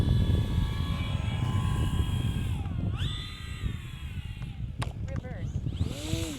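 A Durafly Tundra RC airplane with flaps out, its electric motor droning steadily as it comes in slowly to land, with a pitch drop and rise midway and people talking over it.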